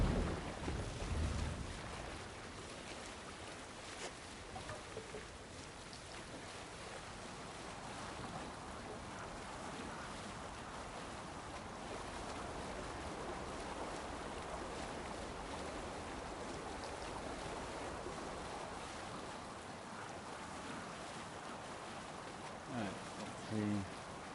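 A sailing ship moves over ocean waves in Assassin's Creed Valhalla, a steady broad wash of water and wind that carries on almost unchanged, with a few brief knocks near the start and end.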